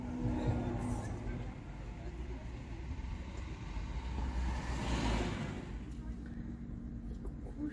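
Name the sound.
car driving, recorded from inside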